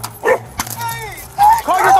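A police dog barks and yelps in short sharp bursts close by, mixed with shouting voices during a tense street confrontation with an officer.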